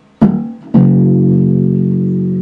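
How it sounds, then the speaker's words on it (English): A muted, percussive ghost-note thump on an unfretted bass guitar string, then a fretted bass note that rings out warm and sustained. "the first note that I'm hitting is the ghost note, and the second one is when you push the fret down"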